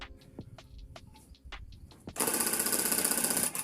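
A tufting gun starts running on a rug after a few light clicks and handling noises, then drones loudly and steadily with a fast buzzing, rattling motor sound.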